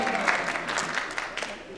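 A synagogue audience in Beverly Hills applauds and cheers, a dense wash of clapping that carries steadily throughout at a moderate distance.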